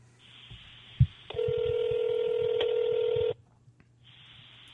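A phone dial tone sounds, and a steady tone then holds for about two seconds before cutting off, preceded by a sharp click, while calling a podcast guest; a tone briefly resumes at the end.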